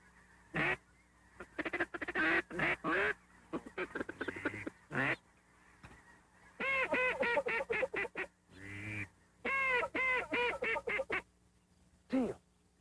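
Teal ducks quacking in repeated bursts through the trees, loud and close, with quiet gaps between calls and a low steady hum underneath.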